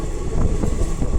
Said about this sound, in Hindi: अभी सुबह के 4 बज चुके हैं और हमारी ट्रेन पहुंचने जा रही है